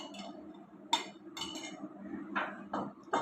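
Beaten yogurt going into a pot for handi aloo gosht, giving clinks and taps of a utensil against metal over a steady low kitchen rumble, with a few sharp knocks spread through.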